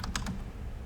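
Keys tapped on a computer keyboard, a quick cluster of three or four close clicks over a low background hum, brief and moderately faint.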